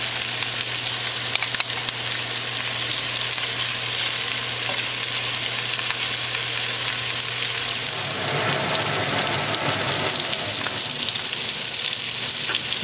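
Lamb chops sizzle and fry steadily in a pan with fresh rosemary and garlic, a loud continuous crackle that briefly surges louder and busier partway through as the chops are flipped.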